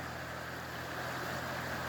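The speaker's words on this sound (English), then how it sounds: "You can hear the brook trickling away in the background there." A brook trickles steadily near Hall Creek outside Nelson, a continuous broadband wash of running water with no breaks or voices, moderately loud and close.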